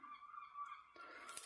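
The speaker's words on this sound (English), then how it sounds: "Seagulls are starting again." Seagulls call outdoors in a few honking, nasal cries. One long held call is followed by a rougher burst at the end. They sound moderately distant and faint, with no speech over them.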